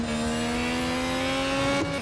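Formula 1 race car engine in the F1 2021 video game at the United States Grand Prix, a loud, steady high-pitched whine held near full throttle, dipping briefly just before the end.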